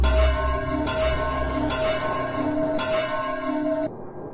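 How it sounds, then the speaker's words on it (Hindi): A village bell rings out with repeated rich metallic strikes, each tone hanging and overlapping into a continuous shimmering drone with low hum beneath, loud and close, cutting off abruptly near the end. "9 बजने से पहले ही घंटा बज गया।"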